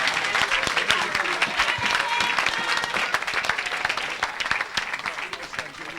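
A church congregation breaks into sustained applause on cue, dense clapping filling the space steadily for several seconds with some crowd noise mixed in.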